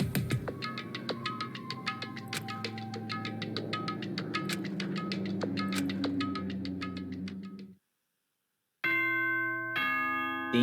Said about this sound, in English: Ding dong, ding dong.